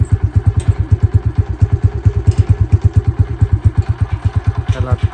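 A motorcycle engine running close by at a steady idle, with loud rhythmic low thumping pulses and some mechanical clatter throughout, alone without talk.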